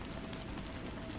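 Steady rain falling on a house roof, a soft, even hiss of countless drops with no pauses, faint and close, heard alone without any voices.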